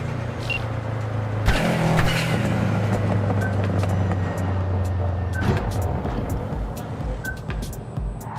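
A car engine in Cyberpunk 2077 hums steadily while driving, with a low continuous rumble and a brief louder swell partway through; no one speaks over it.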